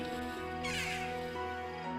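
A jackdaw, bothered by biting ants while anting, gives one harsh, raspy call that is quiet and distant over soft sustained background tones.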